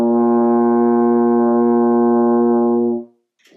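A long, low concert B flat on a euphonium holds steady and loud for roughly three seconds, a rich, close brass drone that fades away at the end.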